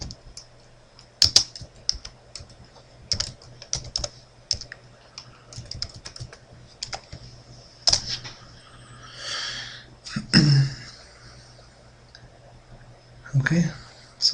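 Sparse, clicky keystrokes on a computer keyboard come in short bursts and single taps, close and moderately loud, with faint breathy sounds and a low hum in the background.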